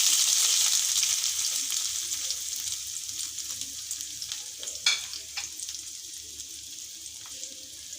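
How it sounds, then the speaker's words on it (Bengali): Chopped onions frying with cloves, cardamom, bay leaf and cinnamon give a loud, steady close sizzle, with scattered clinks and scrapes as the pan is stirred. "পেঁয়াজ কুচি দিয়ে একটু নাড়াচাড়া করে নিচ্ছি"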